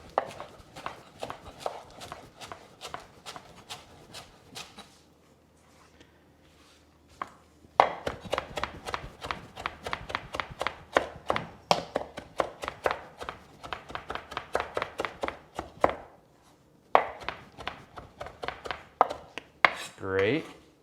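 Cilantro chopped with a knife on a cutting board: quick, rhythmic bursts of close, sharp taps separated by short pauses, with no one talking.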